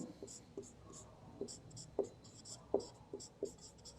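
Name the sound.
writing notes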